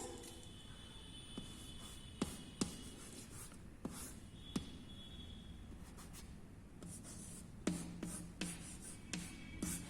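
Chalk or marker scratching across a classroom board during a first-grade Hindi grammar lesson, steady faint rubbing strokes broken by a few sharp taps, with no voices.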